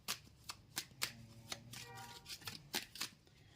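Tarot cards are shuffled and drawn by hand, a series of crisp, close riffles and snaps at an uneven rhythm, quiet and intimate, with a soft voice faintly underneath.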